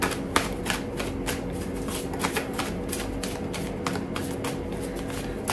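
Oracle cards riffled and shuffled by hand for a tarot reading, a steady run of close, crisp papery flutters and soft slaps lasting several seconds, with no talking.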